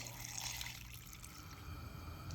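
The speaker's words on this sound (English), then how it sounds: "we're going to add water to it and bring them to a boil" Water is poured from a container into a pot of cut carrots, a close, bubbling, trickling pour that fills steadily and then settles into a lighter dribble.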